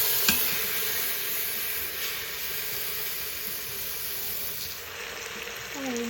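Pork pieces for carnitas laid fat side down in a hot pan to render the fat: a continuous, close, even sizzle and hiss with faint crackles throughout, no voices.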